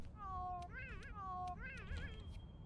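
Cat companion in Monster Hunter World meowing in a string of drawn-out, wavering meows, close and loud over a steady low game rumble.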